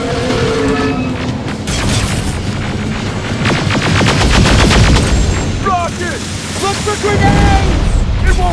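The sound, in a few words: gunfire in the video game Terminator Resistance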